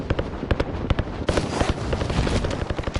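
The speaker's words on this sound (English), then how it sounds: "Alright, stun grenade." A stun grenade goes off in the Warzone video game amid a dense stretch of rapid, sharp bangs and crackling gunfire, loud and close, with a burst that thickens into sustained noise midway.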